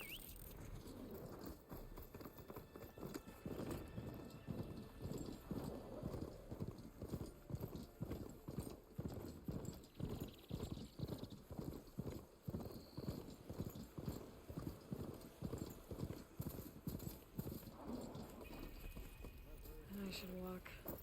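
Hoofed footsteps of a machine mount in Horizon Forbidden West, a steady quick clip-clop gait running most of the clip at moderate level, with a voice speaking and faint bird calls.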